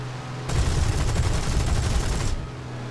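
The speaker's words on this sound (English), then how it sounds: "Wow, rockets!" Rapid rocket fire in a video game featuring a Typhoon, a dense burst of cracking launches lasting about two seconds, loud and close, with no talking.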